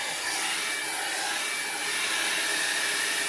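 An air blower hisses steadily over an alcohol ink painting, a continuous loud whoosh with no pauses.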